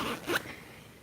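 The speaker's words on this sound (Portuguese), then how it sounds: "eu vou fechar esse zíper" An invisible zipper on a sewn, lined sheath dress being pulled shut, a single short, close rasping zip with a brief sharp rise, against a soft room hum.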